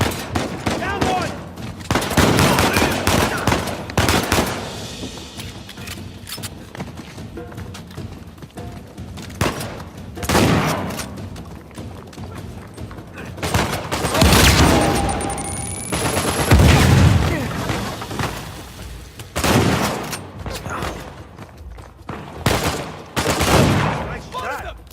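Bursts of automatic gunfire and rattling shots from a third-person action game firefight in Uncharted 4, coming in repeated clusters with a few heavier thumps, some louder and closer than others, with speech also present.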